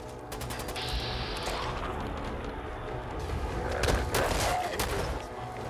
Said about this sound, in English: Time to use a shotgun.